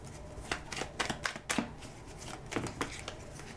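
Tarot cards shuffled for a reading, a run of crisp riffling bursts in two clusters with short pauses, close and fairly quiet, no talking.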